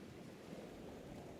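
Ocean waves roll onto a beach in a soft, continuous wash of surf, low and steady with no distinct breaks or voices.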